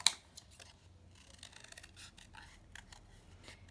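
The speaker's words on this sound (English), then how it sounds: "Okay, so you're going to cut them out." Scissors snip out paper shapes for a craft project, quiet, close, uneven cuts with a sharper first snip and softer rustling strokes, no voices.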